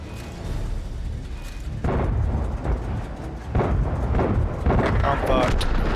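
Explosions and booms from an enemy tank being destroyed in a tank combat video game, several loud bursts rolling one after another over a steady rumbling background.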